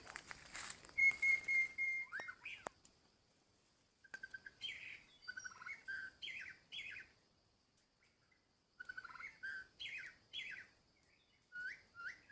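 An oriental magpie-robin sings loud, clear whistled phrases in repeated bursts with short silent pauses between them, close by, over a quiet background.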